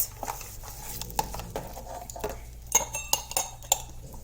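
Plastic lids for sublimation shot glasses being picked up and handled, a scatter of light clicks, taps and clinks at close range over quiet background, growing busier toward the end.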